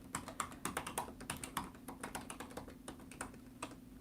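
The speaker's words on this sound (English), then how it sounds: "I'll type it in real quick so you guys can see it." Rapid typing of an email address on a computer keyboard, a quick irregular run of crisp key clicks, close and clear with no voices.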